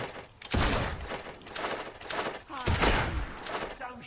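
Gunfire in the video game Fable II comes as loud, close volleys of overlapping shots in two bursts, each followed by a rumbling tail. A voice is faintly audible underneath.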